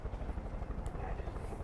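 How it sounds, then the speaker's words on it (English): Helicopter in the video game Far Cry 5, its rotor drone thumping low and continuous at moderate level throughout, close and steady with no break. "Getting in my helicopter."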